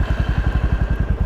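A motorcycle engine thumps close by at a rapid, even idle-like pulse, about a dozen beats a second, loud and alone as the rider gets ready to set off.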